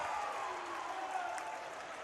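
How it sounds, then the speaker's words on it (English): Basketball crowd at a varsity boys' high school senior night game in a gym, cheering and applauding as a steady, fairly distant roar of clapping and voices. "People are cheering."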